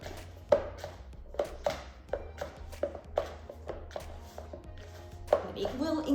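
Hands mixing chocolate dough for chocolate and vanilla swirls in a bowl, giving a run of soft, irregular slaps and squelching taps, close and fairly quiet, with a low hum underneath.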